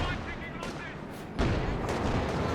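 A heavy artillery barrage thunders in a WW2 strategy game match, a dense wall of rumbling blasts that swells sharply louder about halfway through and keeps pounding steadily.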